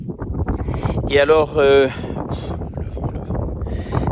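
Wind gusts outdoors make a low, rumbling buffet against the microphone, running steadily beneath someone speaking French nearby.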